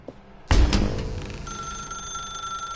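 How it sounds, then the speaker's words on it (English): A telephone rings in The Stanley Parable: Ultra Deluxe, a loud ring bursting in after a quiet start and then holding as a steady electronic tone with no one talking. "Now pick up the phone"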